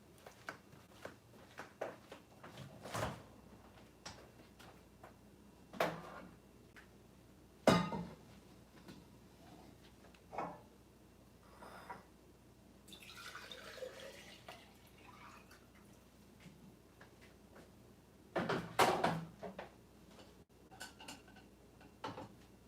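Kitchen clatter of glasses and dishes clinking, with brief water running and dripping while getting a glass of water, a handful of sharp separate knocks spread across a quiet room and a louder burst of clinks near the end.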